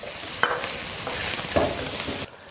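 Blanched chicken with ginger slices and scallions being stir-fried in lard in a wok, a loud steady sizzle broken by a few scraping stirs, which cuts off abruptly near the end.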